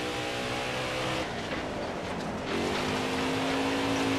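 Race car engine in the NASCAR Heat 4 video game, a steady loud droning roar with rising harmonic whine as the car accelerates hard, then holding a higher pitch, with no talk.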